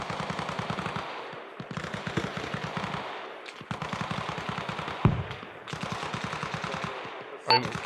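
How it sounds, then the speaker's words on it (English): Sustained bursts of machine-gun fire in the ArmA Reforger military game, rapid rhythmic volleys repeating for several seconds with short pauses between strings, loud and close, with a sharper single report near the end. "There, that's the machine gun, right? That's firing, right?"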